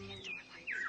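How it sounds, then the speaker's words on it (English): Robins chirp in a couple of quick, faint descending whistles over quiet background sound. "Well, the robins are back."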